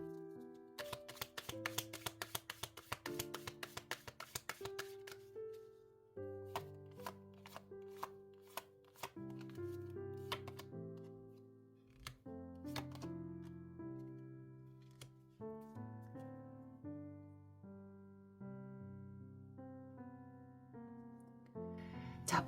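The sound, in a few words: tarot cards being shuffled and drawn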